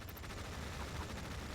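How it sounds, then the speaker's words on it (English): Continuous rattling gunfire from units in Tom Clancy's EndWar, a steady dense barrage with no clear pauses across the short stretch. "We're opening fire at hostile"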